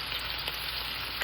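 Liver fries in a pan with a steady, dense sizzle and crackle that holds evenly throughout, close up and with no voices.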